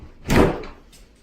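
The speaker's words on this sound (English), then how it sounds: "Door was a little tight." A slightly tight interior door pushed shut in an older house, one dull thump with a brief scrape, close and fairly loud, fading quickly into a quiet room.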